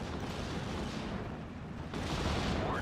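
Rheinwerfer rocket artillery barrage in Steel Division: Normandy 44, a dense continuous roar of rocket fire and explosions that swells louder near the end, no talk.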